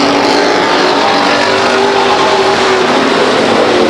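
Stock cars roaring down the backstretch at Stockton 99 Speedway, a loud, continuous engine howl from a close pack running single file.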